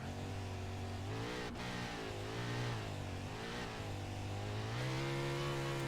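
A wingless 410 sprint car engine at Eldora Speedway is worked on and off the throttle, its deep tone dipping and surging in several distinct revs, close and prominent with no talk.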